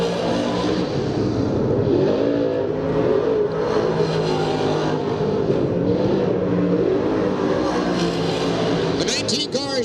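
Small block race cars run time trials on the Eastern States speedway on a Sunday morning, engines droning and revving steadily throughout with continuous loud roar, a commentator talking over the cars.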